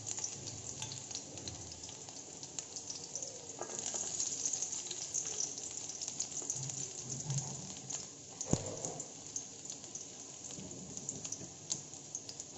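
Chopped garlic pieces frying in mustard oil, a steady close sizzle and crackle that rises and falls with occasional stirring sounds, and no talking over it.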